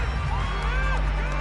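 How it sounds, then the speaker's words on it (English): A football stadium crowd cheers and roars ahead of a big third-down play, a dense, loud wash of voices with a few rising whoops over a steady low hum. "The crowd getting into it as we come up on a big third down"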